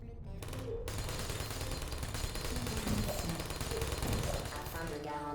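Dense, continuous gunfire from a live-fire course in the Portal video game, rapid and loud throughout, with a voice speaking over it.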